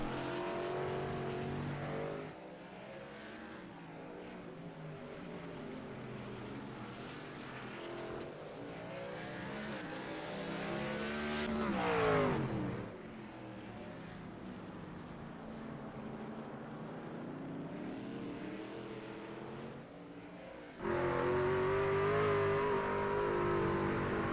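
Race trucks lap the Sonoma road course, engines roaring and revving through gear changes, one truck swelling loud as it passes close before the field fades to a steady distant drone.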